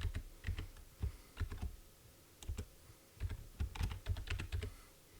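Typing on a computer keyboard while naming a new C++ console project: a quick, close run of crisp key clicks in short bursts with brief pauses between them, no talking.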